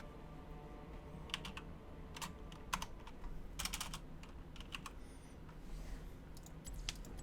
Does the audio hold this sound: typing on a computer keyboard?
yes